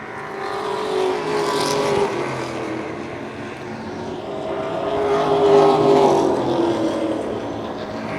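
Race cars lapping a short oval track during a late-race battle with lapped traffic, a continuous loud engine roar that swells and fades as cars pass near and away, no talk.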